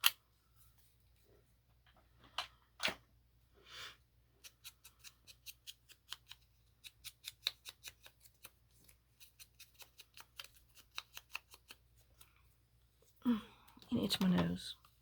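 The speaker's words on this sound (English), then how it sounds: "I'm going to snip him with my little angle, my small angle cutters" Small angle cutters snip repeatedly in a close, quiet room, a long run of crisp rhythmic clicks, with brief speech near the end.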